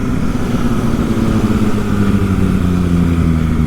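An MV Agusta 1090 Corsa motorcycle engine revving close up, a loud, steady throaty drone with strong low harmonics that shift pitch slightly as the throttle moves, no talking.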